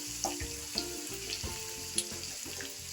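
Crushed garlic fries in a pan while an instant lemon pickle is being made, giving a steady, soft sizzle with a few small pops and crackles throughout and no voices.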